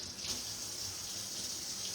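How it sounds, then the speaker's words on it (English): Hands are washed under a running kitchen tap, a steady close hiss of water with gentle splashing throughout, no talking. "let me just wash my hands real quick"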